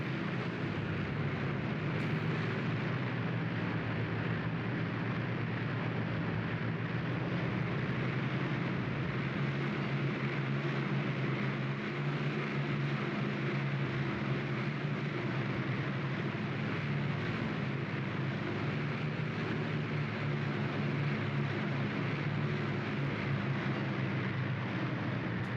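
Aircraft in a tank warfare game set in Tunisia in 1943 rumble over the battlefield as a broad, constant roar that stays level and unbroken for the whole stretch, with no voices.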